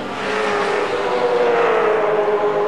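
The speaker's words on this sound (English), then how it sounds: "Big field of V8s, 28 in all." V8 touring cars race at Oran Park in a big 28-car field, engines roaring past at high revs with a rising then falling pitch as a car sweeps by, steady and loud throughout.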